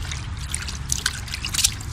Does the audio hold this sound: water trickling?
yes